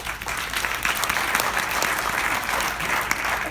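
Crowd applause at a New Jersey campaign event for a clean energy candidate, a dense, steady burst of clapping from a small audience lasting a few seconds, fairly close and loud.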